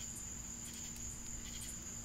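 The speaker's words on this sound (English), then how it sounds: "Panic says these are cicadas." Cicadas buzz in a tree as a steady, high, unbroken drone that holds for a couple of seconds, quiet and alone, with no voices over it.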